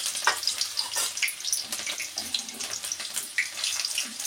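Chopped onion hits hot oil in a pan and sizzles with a steady, crackling hiss, full of small sharp pops, close and continuous with no talking.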